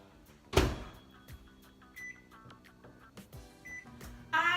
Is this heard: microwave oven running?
yes